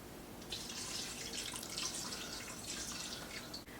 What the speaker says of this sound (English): I should add some more broth.